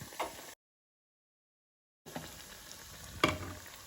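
A donut sizzles and bubbles in hot frying oil, a soft steady crackle broken by a short silent gap and a brief louder spatter near the end.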